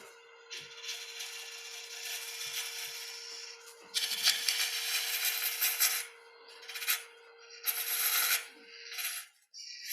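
Bursts of raspy scraping and rubbing from a tool shaping a ring plug, close-up and fairly loud, come in uneven strokes of a few seconds each with short pauses between and a faint steady hum underneath.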